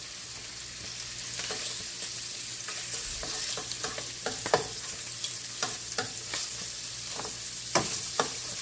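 Sausage frying in a pan on turned-down heat gives a steady sizzle, with scattered pops and stirring clicks throughout, close and moderately loud, with no voices.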